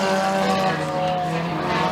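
Front-wheel-drive four-cylinder race cars roar together on the first lap at Freedom Motorsports Park, a loud sustained engine drone with a steady high whine, under a track announcer's commentary.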